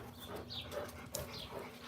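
Missy, a small dog, making soft whimpering and whining sounds close by, faint and intermittent over a quiet room with no talk.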